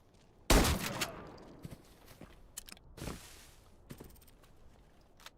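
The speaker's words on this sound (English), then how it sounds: "Gunshots." Gunfire in the shooter game Arena Breakout Infinite: one loud close shot opens the clip, followed by a few fainter scattered cracks and thuds fading into ambient noise.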